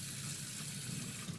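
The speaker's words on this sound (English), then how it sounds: "I would not drink water from the faucet in a washroom" Water runs from a washroom faucet in a steady, close hiss without breaks.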